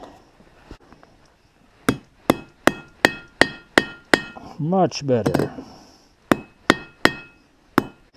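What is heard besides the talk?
hammering a rivet on an anvil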